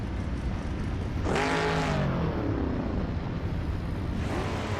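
A 1966 McLaren Elva Oldsmobile race car engine roars at the start of a race, a loud continuous rumble with a sharp rising rev sweep midway and another surge at the end.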